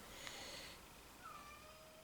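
A pet cat meows softly in a quiet room, a faint drawn-out call followed by a fainter second one against low background hiss.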